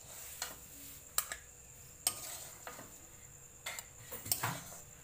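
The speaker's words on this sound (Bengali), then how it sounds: "এবার আমরা বাটির মধ্যে তুলে নেব।" Cooked snail meat, simmered in a curry with potatoes, is spooned out of the pot into a bowl: a few sharp metallic clinks and scrapes, spaced irregularly, over faint kitchen background.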